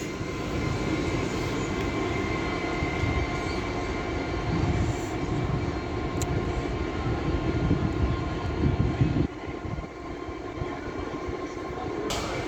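A train leaves Doncaster station on the East Coast Main Line with a loud, steady engine roar and rumble. The sound holds for several seconds, then drops a little as the train moves off.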